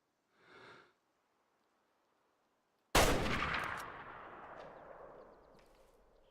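A single loud rifle shot at a red deer on the Lintukoto Reserve map of a hunting game, a sharp close crack followed by a long rolling echo that fades out, preceded by a brief faint sniff.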